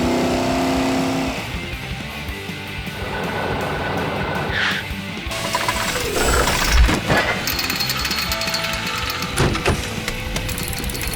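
Mechanical ratcheting and grinding of a cartoon crane truck pulling cables, with whirring gear noises, clanks and a rising whoosh, moderately loud and busy.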